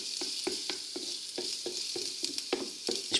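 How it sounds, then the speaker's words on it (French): Chopped garlic fries in hot olive oil with a steady close sizzle, broken by regular scraping strokes of stirring about every quarter second. "il ne nous reste plus qu'à verser les petits morceaux d'ail. Et là, on va les faire cuire jusqu'à ce que ceux-ci soient bien dorés"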